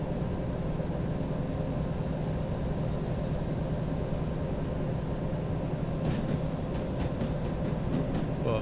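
A locomotive running in the Derail Valley train game, giving a steady, loud rumbling drone that stays even throughout, with faint clicking near the end.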